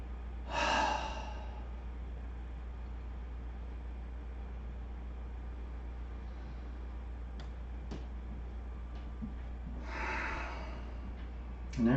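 Slow, deep breaths during a vinyasa yoga session: two long, airy exhalations about nine seconds apart, close and soft, over a steady low hum with a few faint ticks between.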